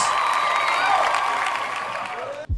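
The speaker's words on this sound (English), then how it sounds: "If you're at home sitting in your chair, start clapping right now for Miss Franks." Studio audience applauding and cheering to welcome a guest on a comedy show, a loud, dense, steady wash of clapping and whoops that cuts off abruptly near the end.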